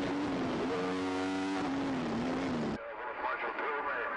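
Racing motorcycles at the Tandragee 100 road race go through a chicane, a loud engine whine rising and falling, then cutting to a rougher roar. A commentator talks over the noise.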